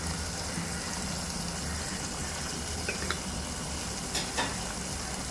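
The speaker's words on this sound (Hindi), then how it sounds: "अब मसाले को हम भूनने देते हैं अच्छे से" Masala spices roasting in a pan for a village-style chicken and baingan curry, a steady close sizzle and hiss with a few faint scrapes of stirring on top.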